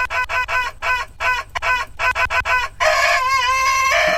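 A rooster crow is DJ-scratched into a choppy run of short stuttering bursts, then plays out as a longer wavering crow at the end, loud and up front.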